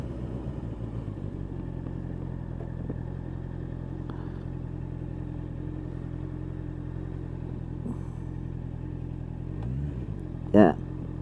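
2024 Honda CBR650R with E-Clutch ridden in traffic: a steady, close engine drone with the bike running along, a short louder burst near the end, and a rider talking over it.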